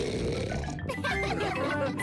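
Cartoon pig oinking from the Peppa Pig animated series in Ukrainian, short snorting grunts mixed with a child-like voice and background music, loud and close throughout.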